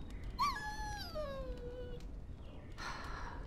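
A dog in Dragon Age: Origins gives a long, high, falling whine, like a pleading whimper, over a low ambient hum, followed by a short burst of noise near the end.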